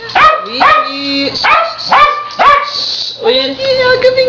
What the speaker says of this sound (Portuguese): Olha aqui a sua cachorrinha.